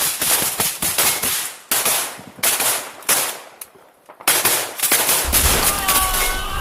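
Gunfire in a dark trench during combat, with loud, close bursts of rapid automatic fire and single sharp shots in clusters, separated by short pauses and a low rumble near the end.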